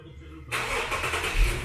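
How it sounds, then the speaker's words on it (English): An Infiniti G37x engine cranks and catches via a remote starter, a short burst followed by a steady close idle with no talk over it. "Car fires up, the lights are going to flash a couple more times to let you know that it started"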